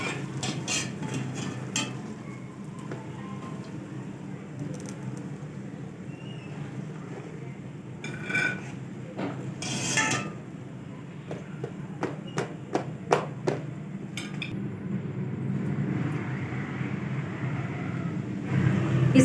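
Chicken samosas lifted from a frying pan onto a plate in a home kitchen, with a steady low sizzle of hot oil beneath several sharp clinks and scrapes of a utensil against the pan and plate.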